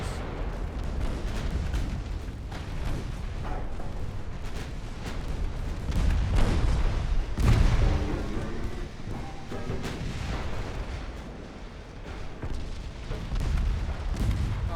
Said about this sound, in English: Why are you guys firing main guns at those?